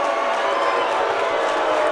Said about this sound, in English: The fans booing.